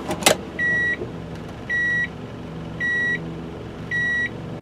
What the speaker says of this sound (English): It also sounds a chime when you shift into reverse.